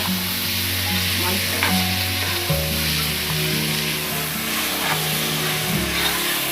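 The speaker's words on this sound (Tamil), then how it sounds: "நல்லா வதக்கணும்." Vegetables for biryani sautéing in a pan, giving a loud, dense, continuous sizzle with a steady hum underneath and occasional soft stirring scrapes.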